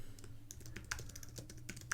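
Keys clatter on a computer keyboard in a quick, uneven run of close, crisp taps while text is typed, with no voices.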